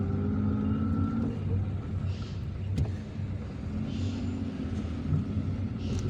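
A car drives through the streets of Ben Aknoun in Algiers, its interior filled with a steady low engine rumble and road noise, plus a brief knock partway through.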